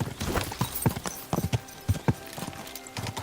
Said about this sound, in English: I'll let my horse guide me. Ride me, take me to my destination.